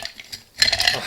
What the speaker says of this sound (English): Ice our mixing glass in the normal way that they do in every bar. With this big melty chunk.